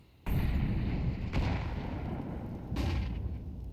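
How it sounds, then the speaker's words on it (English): AWP sniper rifle shots ring out in Counter-Strike 2, three sharp, heavy cracks spaced about a second apart, each followed by a booming tail, loud and close with no talk. "Busting out the AWP."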